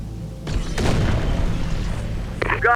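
A deep boom from weapons fire and an explosion in a video game rolls out loud and close, then fades into a rumbling tail with a sharper crack near the end.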